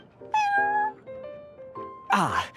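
A cat meowing in the Honkai: Star Rail video game, several drawn-out tonal meows close up, ending in a louder, harsher cry.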